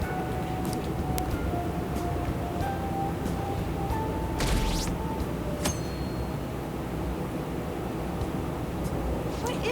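A train ride in the video game Persona 5 Royal plays out as a steady low rumble of a rail carriage, with faint chimes and clinks and a brief swell of noise midway, under continuous background chatter.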